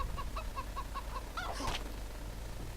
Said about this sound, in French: Un poulet.